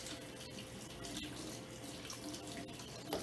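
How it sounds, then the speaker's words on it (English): Warm water runs from a kitchen tap in a continuous, faint, even splashing stream, with a small knock near the end. "I'm going to use warm water. Turn this down, and I'm just going to let it run."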